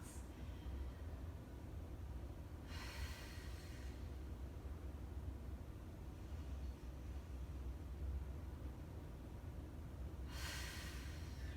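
Slow, deep breaths during a restful yoga pose, three long airy exhalations spaced several seconds apart over a steady low hum, close and soft.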